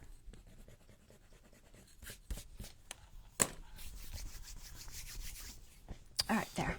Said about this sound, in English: Usually you can get your dried on glue off with an eraser.